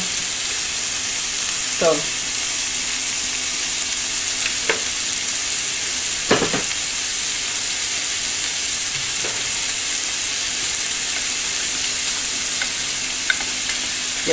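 Peppers frying in oil in a pan, a steady loud sizzle with a few sharp scrapes and clinks of stirring, and a brief spoken word near the start.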